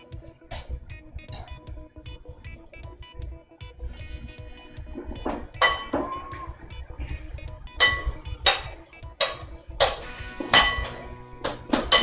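A spoon stirs and clinks against a dish, giving a series of sharp, bright metallic taps that start sparse and grow louder and more frequent toward the end, close by with no talking.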